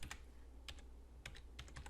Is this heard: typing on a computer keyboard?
yes